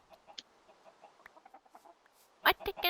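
Minecraft chickens clucking in a game, a string of faint short clucks followed by a louder, closer burst of clucking at the end, with some speech-like sounds mixed in.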